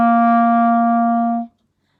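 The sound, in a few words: clarinet playing a low C note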